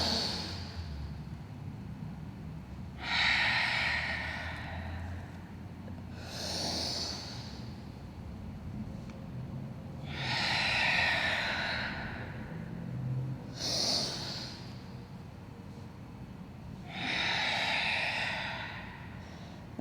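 Deep breathing during a yoga breathing exercise, slow audible inhales and exhales repeating about five times at a steady, unhurried pace, close and fairly quiet.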